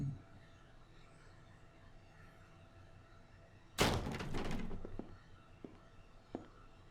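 In the Blues and Bullets video game, a door swings open with a sudden loud creaking thud over quiet room tone, followed by a few faint knocks and footsteps.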